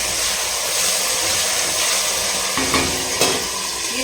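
Green chillies sizzle in hot oil for coriander chutney: a loud, steady, dense hiss of frying throughout, with a couple of brief clinks from stirring near the end.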